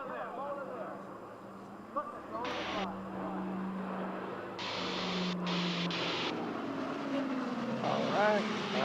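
A Lockheed Constellation propeller airliner drones past overhead, a steady throbbing engine hum that swells toward the end, with bursts of radio chatter and voices talking over it.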